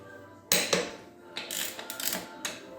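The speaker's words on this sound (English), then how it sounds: "Now we'll get our torque wrench here." A torque wrench ratchets in short bursts while tightening wheel nuts on an old 1948 Ford 8N tractor, several loud clicking runs with brief pauses between them, close by and with no talk.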